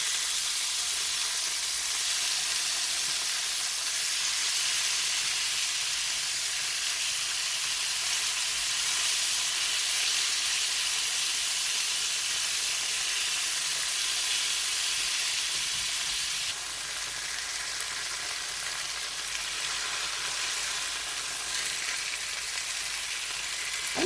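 Chicken breasts, pounded thin, sizzle hard in a frying pan just after being flipped, a loud, steady, unbroken hiss and crackle with no talking.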